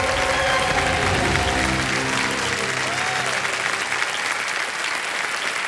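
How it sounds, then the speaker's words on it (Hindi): Loud, dense applause from the studio audience of the game show Kaun Banega Crorepati fills the room, then gradually thins out toward the end. "जोरदार तालियां बजाएं इनके लिए।"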